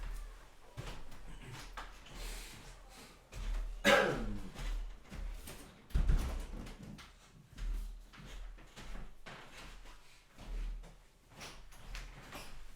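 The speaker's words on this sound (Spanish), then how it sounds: "voy a cerrar la puerta que igual es que está entrando frío" A door shuts indoors with a couple of soft, close thuds and knocks amid light handling noises in a quiet room, with no talking.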